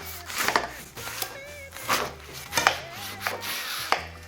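A knife cuts a burger bun in half with several short rasping, sawing strokes at an uneven rhythm, close and fairly quiet.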